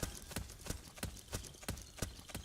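Footsteps in the Metal Gear Solid 4 stealth game, a steady run of crisp, evenly spaced thuds about every third of a second, close and clear over a soft background hum.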